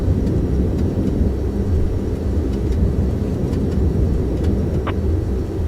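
Dash 8 Q400 turboprop engines roar steadily during the takeoff roll in a flight simulator game, a loud continuous broadband drone with faint rhythmic ticks and no talking.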